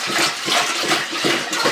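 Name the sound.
water being poured into a pot for homemade broth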